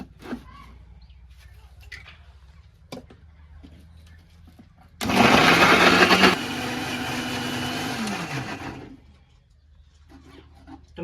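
A kitchen blender grinds tomatoes into gravy, roaring loudly for about four seconds with a pitch that shifts as the load changes, then cutting off into quiet room sound.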